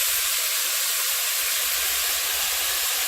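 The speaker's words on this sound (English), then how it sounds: "I put a little bit more oil and they go in the pan." Shirataki noodles sizzling in a pan with extra oil, a loud, steady, bright hiss that carries evenly through the whole stretch, with faint low thumps underneath.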